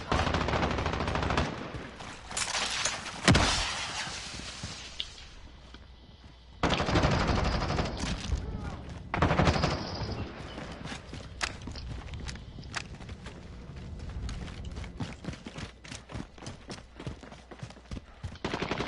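Bursts of gunfire in a Call of Duty match, rapid automatic volleys and single shots crackling loudly in uneven clusters with pauses between, alongside footsteps and scattered game effects.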